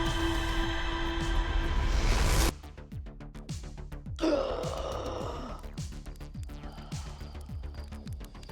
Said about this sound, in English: The wonderful gasp when I respawn